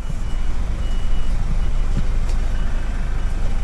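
A truck's engine rumbles loud and steady close by, with a faint high reversing beep pulsing once or twice above the engine noise.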